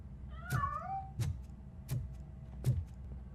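Cartoonish cat meows from the RoboCop video game, four short repeated cries at steady intervals over a low electronic game backdrop, the first one a rising and falling wail.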